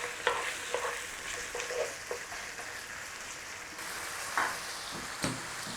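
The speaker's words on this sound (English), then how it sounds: "start to cook your liver" Chicken livers frying in a pan give a continuous close sizzle and crackle, with a few soft stirring clicks and knocks scattered through it and no voices.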